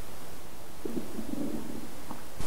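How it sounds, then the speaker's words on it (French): A low, gurgling stomach rumble rises faintly under a steady room hiss and then trails off in a couple of soft bursts, with no talk over it. "ça, c'est ton ventre qui gargouille"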